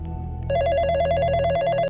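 A telephone rings with a steady repeating electronic trill, loud and close, starting abruptly after a brief low hum and continuing without any voices.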